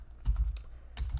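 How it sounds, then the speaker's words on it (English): Fingers tap a computer keyboard in a quick little burst, a few close, crisp key presses within about a second. "We start typing this in, right?"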